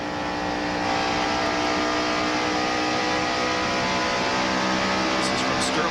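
NASCAR stock cars at around 200 mph in the 1992 Hooters 500, one car close behind another down the main straightaway into turn one, a steady loud engine roar with a commentator talking over it.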